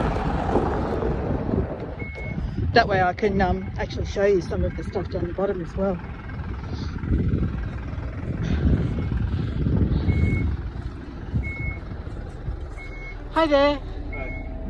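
A bus at a rural Dungog, New South Wales sculpture event, rumbling engine with repeated reversing beeps, close and loud, under wind noise while someone talks and greets someone.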